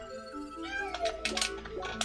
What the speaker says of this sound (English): Oh my god, why is my cat meowing?